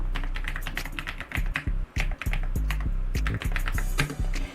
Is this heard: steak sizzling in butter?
no